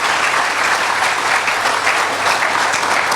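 A church congregation applauds the Lord, with dense, steady clapping from many hands filling the room, loud and even throughout with no pauses.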